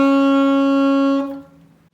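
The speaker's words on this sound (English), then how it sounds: "if I was to play a B flat on the saxophone, it would sound like this." A saxophone sounds a single sustained B flat, steady and clear for over a second before it is cut off and fades quickly, heard alone.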